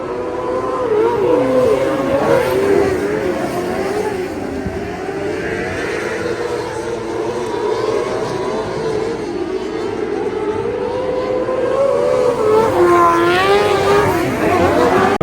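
Race cars in a heat at Lake Liddell Speedbowl during the POWRI Nationals: loud, continuous engine roar with rising and falling revs as cars pass nearby, a steady wash of track noise throughout.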